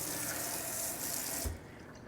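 Tap water runs into a kitchen sink as cooking gear is rinsed under it, a steady close splashing rush that cuts off abruptly near the end, leaving only quiet room tone.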